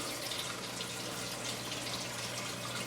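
Water dripping and trickling steadily in a Tower Garden, heard as a continuous close, faint wash of running water with a low hum beneath it.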